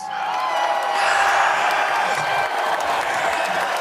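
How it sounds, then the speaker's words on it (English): An applause sound effect is cued on a podcast, a full crowd of clapping with cheers and whoops swelling and holding steady, standing alone without talk. "Cue that applause."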